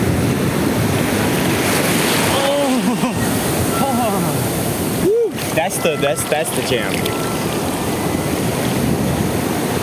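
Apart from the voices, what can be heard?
ocean waves breaking on a Florida beach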